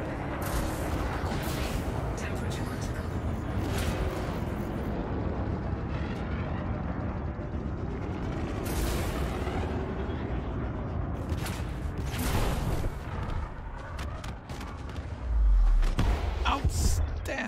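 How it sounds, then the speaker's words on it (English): Plasma weapon shots fired at a target in a video game, heavy booming blasts and rumbling bursts over a dense mechanical din, with a voice talking at times. "Landing plasma shots is just, it's satisfying"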